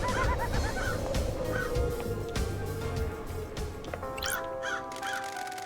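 A cartoonish bird in the video game Paradise Killer gives repeated honking, cawing calls in short bursts over a steady droning music bed, with no talking.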